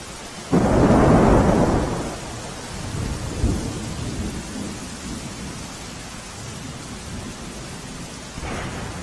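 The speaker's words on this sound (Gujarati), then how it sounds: "જામનગરમાં ભારે વરસાદ થતા જળબંબાકારની સ્થિતિ જોવા મળી" A loud, close rumble of thunder rolls out over heavy, steady rain in Jamnagar, Gujarat, then fades into continuous flooding downpour with another rumble starting at the end.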